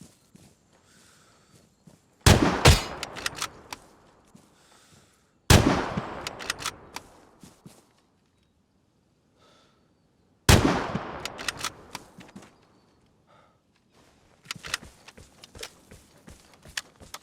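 Gunfire in the video game Vigor: three loud bursts of rapid shots arrive about three seconds apart, each trailing off into quiet, with lighter scattered cracks and footstep-like taps toward the end and no speech.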